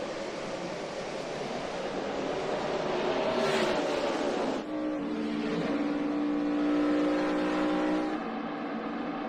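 NASCAR stock cars at the 2011 Samsung Mobile 500 roar as the field accelerates on a restart, a dense, loud rush of engines rising and sweeping past with rough surging noise throughout.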